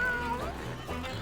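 Cats meowing at a hamster rolling through a tube, a couple of clear, close meows over a steady background.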